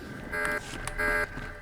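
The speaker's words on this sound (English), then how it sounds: "Oh, looks like I tripped the alarm." Alarm tripped inside a bunker, two short loud buzzing blares in quick succession.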